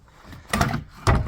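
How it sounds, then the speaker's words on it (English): A damaged side door on a narrowboat being taken apart, with two loud knocking, rattling bursts of wood and hardware handling close by, separated by a half-second of quieter shuffling. "I'm just busy taking this door apart now."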